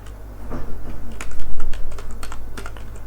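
Rapid, uneven keystrokes on a computer keyboard while typing code, close and clear with short irregular bursts of clicks and no talk.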